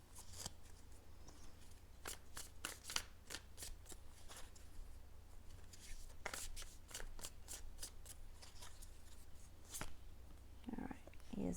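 Tarot cards are shuffled up close at low volume, giving a string of soft crisp riffles and flicks spread irregularly across the stretch over a faint steady hum.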